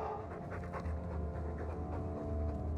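A dog pants in quick, steady breaths throughout, close and continuous over a low background hum, in the video game Dragon Age II.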